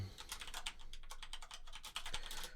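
Rapid keystrokes clatter on a computer keyboard in a quick, uneven burst of light clicks, close and fairly quiet, with no one speaking.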